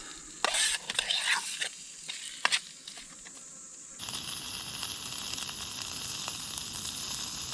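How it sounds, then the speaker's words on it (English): Prawns frying slowly in a pan at a campsite, with scraping and stirring first and then a steady loud sizzle that starts abruptly and hisses on close by. "Alright, so let's get these prawns in now. Get them cooking slowly."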